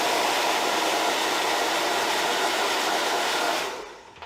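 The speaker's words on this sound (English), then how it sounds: "blow dry will help to get all the hairs out of your" A hair dryer blows steadily and loudly to clear cut hairs out of a clipper machine from a professional hair cutting kit, a continuous broadband rush that fades out near the end.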